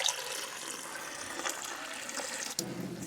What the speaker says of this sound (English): I'm just going to squish a tea bag in some cold water